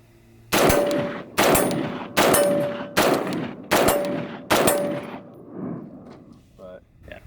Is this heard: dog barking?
no